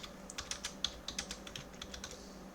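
Computer keyboard typing while entering a tool name into a QGIS processing toolbox search, a quick run of crisp clicky keystrokes in an irregular rhythm, close and fairly quiet with no voices.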